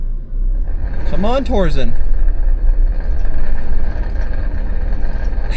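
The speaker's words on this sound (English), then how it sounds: "I am now full throttle. Wheels are spinning, but we're not getting unstuck at all." A Toyota Land Cruiser 250 engine roars steadily at full throttle with its wheels spinning on rollers, a loud continuous rumble that runs throughout while a voice speaks briefly over it.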